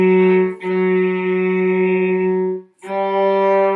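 Bowed cello notes on the open A string, sustained and resonant with a rich harmonic tone, in two long strokes broken by a brief gap, loud and close with no talking.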